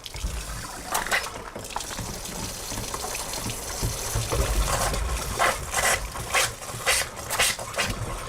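Methane-laced tap water gushes from a kitchen faucet in a steady splashing stream, with intermittent louder bursts and flares over the flow, close and moderately loud.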